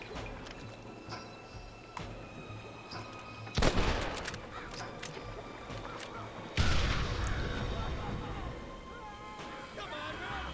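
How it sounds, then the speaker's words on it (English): Gunfire from enemies in Red Dead Redemption, a moderately loud crackle of shots with two sharp bursts standing out over a steady game background, with no talk. "They're shooting down on us!"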